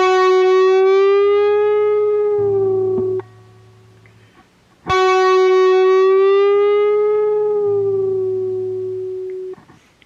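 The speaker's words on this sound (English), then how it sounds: "If I do a bend and release, it's going to sound like this." Two sustained guitar notes, each bent up from the 11th to the 13th fret and then released back down, ringing cleanly with a sliding pitch rise and fall, separated by a short pause and no talking.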